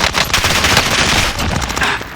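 Rapid automatic gunfire from a Cold War MP5 in Call of Duty: Warzone, a dense, loud continuous burst with no pauses.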